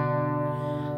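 A single strummed electric guitar chord with the high B and E strings muffled by a fingertip, ringing steadily for about a second, close and clear with a slightly distorted tone.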